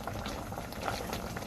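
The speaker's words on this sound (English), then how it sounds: "When you blanch the vegetable, don't forget to open the cover." Bok choy blanching in a pot of uncovered boiling water, a steady close bubbling and churning with no voices.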